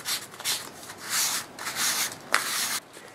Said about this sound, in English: So I'm going to take just a little bit of sandpaper, and it's very fine sandpaper